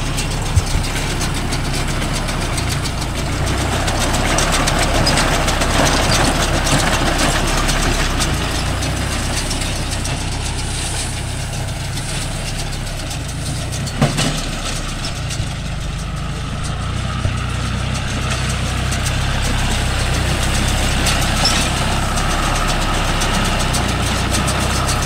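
A John Deere 5105 tractor engine runs steadily with a Gomathi baler rolling groundnut haulm: a loud, continuous diesel drone with mechanical rattle, constant throughout with no voices.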